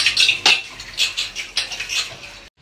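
Dishes, pots and utensils are washed in a home kitchen, with clattering clinks and scraping in a quick, irregular series of close knocks that stop abruptly.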